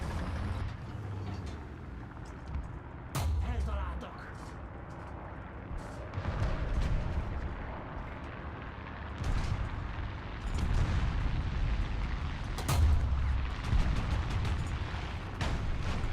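Gunfire and booming cannon blasts rain in on a tank in the War Thunder combat game, with repeated sharp impacts and heavy explosions over a constant rumbling engine and battle noise.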